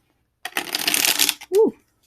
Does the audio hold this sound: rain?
no